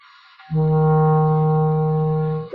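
A clarinet holds a single steady, soft F note for about two seconds, a pure sustained tone rising from quiet and ending with a slight tail-off.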